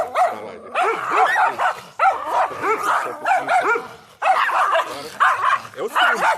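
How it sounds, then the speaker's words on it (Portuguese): Several dogs bark and yip excitedly indoors, a rapid, overlapping run of loud, close barks that continues with only short pauses throughout. "Os cachorros ficam muito empolgados na hora da live."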